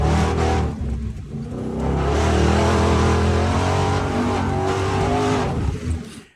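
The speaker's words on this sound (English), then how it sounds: "Bronco DR Desert Racer with a V8 and not a 6-cylinder" A Ford Bronco DR Desert Racer with a V8 engine revs hard off-road, a loud throaty roar that dips briefly near the start, then climbs and holds steady before cutting off abruptly.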